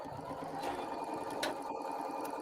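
A sewing machine runs steadily, stitching fabric pieces with a continuous close mechanical whir and rapid needle hum, quiet and unbroken, with no talk.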